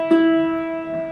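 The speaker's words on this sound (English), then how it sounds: "Here's the E." An open E string on a ukulele is plucked once and left to ring, a clear sustained tone that slowly fades, heard close and alone.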